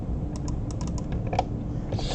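Computer keyboard keys pressed for copy and paste shortcuts while working in Adobe Illustrator, a quick run of light, close clicking taps at an uneven rhythm.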